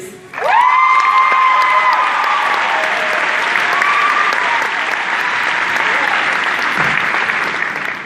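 Loud, sustained applause with cheering and whoops from an audience at a 2015 baccalaureate ceremony, welcoming a Long Beach city councilman to the stage, rising quickly and holding steady for several seconds.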